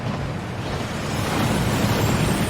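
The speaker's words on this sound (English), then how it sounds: "That waterfall washes away all enchantments" A rushing waterfall inside the Gringotts vaults in Hogwarts Legacy gives a steady, loud broadband roar of falling water that builds slightly and holds without a break.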